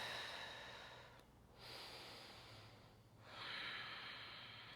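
Slow, deep breaths during a morning yoga flow: two long airy exhalations or inhalations, close and soft, separated by short quiet pauses, with no talking.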